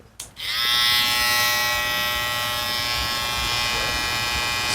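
A Wmark NG 2054A electric hair clipper clicks on and runs with a steady, close, high-pitched buzz that holds constant throughout.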